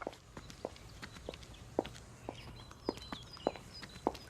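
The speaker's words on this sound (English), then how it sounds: "I hear the footsteps of people walking past me on the footpath" Footsteps of people walking past on an outdoor footpath, a loose series of sharp, clicking heel strikes at an uneven pace over a soft ambient hum, with faint birdsong in the background.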